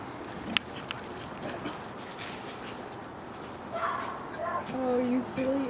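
A dog plays outdoors with soft whimpers and a few yips in a noisy background, while a voice talks over the later part.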